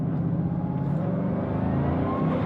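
A Bugatti Divo hypercar accelerates hard in sport mode on an autobahn, a loud, steady engine roar with a rising whine heard from inside the cabin, continuous throughout.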